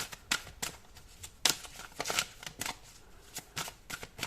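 A deck of oracle cards shuffled and drawn by hand for a Scorpio reading, giving a run of crisp riffling bursts and soft slaps at an irregular rhythm, close and clear with no talking.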